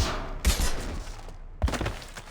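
Gunfire in the video game Mass Effect 2, two loud bursts of shots about a second apart, each trailing off into a noisy decay.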